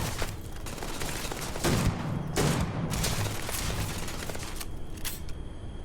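Dense bursts of gunfire from the video game Starfield, several loud volleys and single shots crackling over a continuous roar of combat noise.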